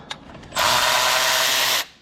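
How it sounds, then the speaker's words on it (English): A ratchet spins out T40 bolts from a small transmission bracket, a loud, steady rapid clicking that runs for about a second and a quarter after a few faint taps. "start removing these T40 bolts out of this little bracket here"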